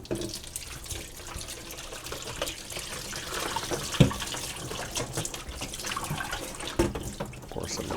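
Distilled water poured over the front of an Outrun arcade machine part during repair, a steady close splashing and trickling stream running the whole time with one brief knock partway through, and no talking.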